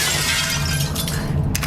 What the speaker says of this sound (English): Glass breaking noise.